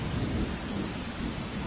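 Heavy monsoon rain pours steadily in Veraval, Gujarat, with a low rumble of thunder rolling beneath the dense, constant hiss of the downpour.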